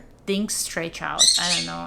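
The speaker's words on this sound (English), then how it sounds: "if you hear the weird screeching in the background, that's my bird" A pet bird screeches in harsh, squawking bursts close by while a person talks over it during a knitting chat.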